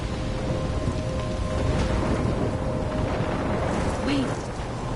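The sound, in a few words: storm with rain and thunder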